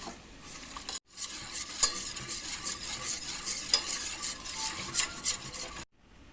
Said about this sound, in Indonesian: Diaduk lagi sampai rata, sampai tepungnya itu dipastikan gak ada yang ngegumpal ya.